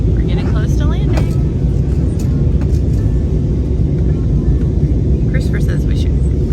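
Steady airplane cabin rumble as the plane approaches landing, a constant low engine drone filling the space, with faint brief chimes and clicks on top.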